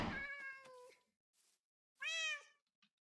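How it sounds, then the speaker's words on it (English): Cats in the Minecraft video game meow twice, each a clear, drawn-out mew with faint clicks between, heard alone without talk. "Here's your basic cats"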